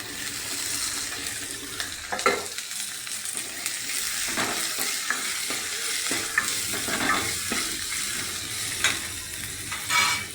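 Ginger, garlic and green chillies fry in a pan with a steady, loud sizzle, while a spoon stirs and scrapes through it in irregular clicks and knocks.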